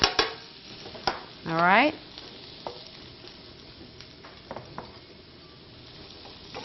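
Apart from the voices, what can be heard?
stirring frying cheesesteak filling in a pan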